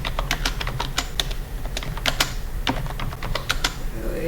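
A file name being typed on a computer keyboard, a quick, continuous stream of crisp, close key clicks with uneven rhythm and no pauses or talk.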